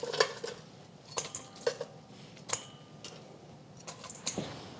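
Crispy fried chicken wings clatter and tick against a bowl as they are moved in, a handful of sharp, dry clinks spaced irregularly at close range with no talking.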